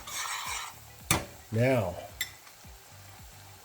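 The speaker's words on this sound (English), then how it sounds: "Let's stir that up for a few seconds" Garlic butter sizzles and frying food gets stirred in a pan with a few clinks of utensil on metal, close by, and a voice says a brief word partway through.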